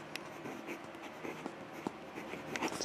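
A Lamy Al-Star fountain pen with a broad nib moving across paper, a soft, continuous scratchy rustle with small irregular strokes, close and faint.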